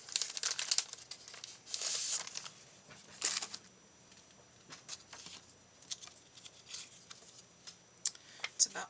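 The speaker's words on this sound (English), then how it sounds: "Good grief, I gotta tear another one." Paper torn by hand into strips for a coffee-themed journal page, giving several short crinkling rips with pauses between them, close and fairly quiet.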